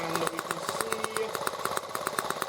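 Small engine idling steadily after warming up while its carburetor is adjusted, with a fast, even, buzzing pulse up close and no talk.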